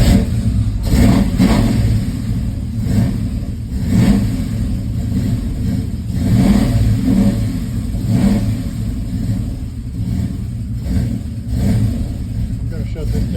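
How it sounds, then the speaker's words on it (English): A cold-blooded car engine cranks after the ignition is switched on and the pedal pumped, then catches and revs in loud, uneven surges over a steady low rumble, with a voice talking at times over the running motor. "So when you want to start the car, first thing you do is put the ignition on and wait a minute."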